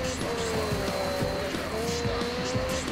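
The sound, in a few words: buggy vehicle driving in Onrush video game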